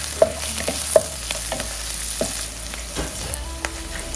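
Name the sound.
green onion and garlic stir-frying in butter in a pan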